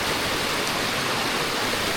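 Main waterfall on the Stanhope Burn beck, falling into a deep drop: a steady, dense rushing roar of water, loud and unbroken throughout, with no voices.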